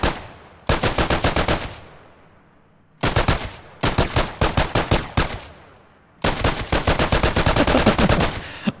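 Rapid automatic gunfire in the video game Memory Isle comes in three loud, close bursts of fast, evenly spaced shots, with short quiet gaps between them.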